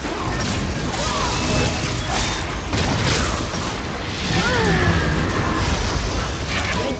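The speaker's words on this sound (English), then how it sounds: "Red team's turret has been destroyed." A turret being destroyed in League of Legends at a tournament: a burst of crashing, booming game noise over a dense, steady roar of crowd and arena sound.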